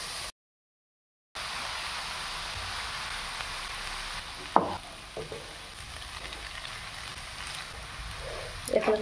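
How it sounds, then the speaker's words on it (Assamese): Chowmein being stir-fried in hot oil in a pan, a steady sizzling hiss with occasional scraping and clattering of the utensil, close up, with brief speech and a short gap near the start. "এতিয়া মই ইয়াত চাওমিনখিনি দি দিম।"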